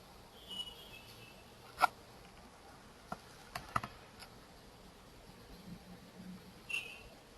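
Sparse keystrokes on a computer keyboard while code is entered, a handful of isolated close taps spread over quiet room hiss rather than continuous typing.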